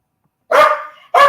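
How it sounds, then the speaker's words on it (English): A dog barks twice, loud and close, each bark a sharp yelp trailing into a brief tail, with a pause between them over silence. "I got a dog barking in the background."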